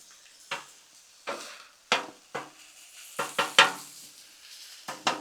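Ground beef cooking on a Blackstone griddle, with a spatula repeatedly scraping and chopping at the meat in short, sharp bursts over a faint sizzle, close and fairly quiet between strokes.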